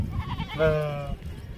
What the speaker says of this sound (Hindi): प्योर कक्की मुंदरी भेड़ है माशाल्लाह